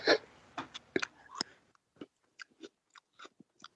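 Someone chews Cookie Crisp cereal close to the mic, a run of sharp crunchy bites and chews, dense at first and then spaced into short separate crunches.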